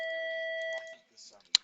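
A bright electronic bell chimes in a video game still in development, holding a steady ringing tone for under a second before fading, followed by a few soft clicks and a short sharp tap.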